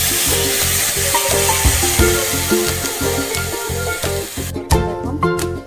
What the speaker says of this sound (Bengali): সিমইটা দিয়ে এটাকে লাল লাল করে ভেজে নেব।